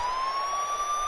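A police siren blares as wrestling entrance music, a steady loud wail with a slowly rising pitch and no voices over it.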